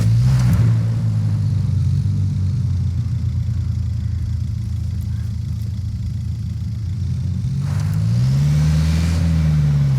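A car drives in the video game Ghost Recon Wildlands, a loud, steady engine hum that dips slightly and then rises into a revving climb near the end, with no talking.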